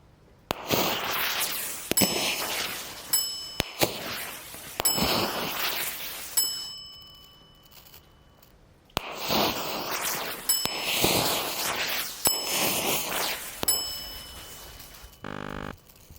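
Consumer firework igniters firing at a fuse and exposed black powder, giving a series of sharp clangs and crackling bursts spread across the clip with quiet gaps, close and fairly loud.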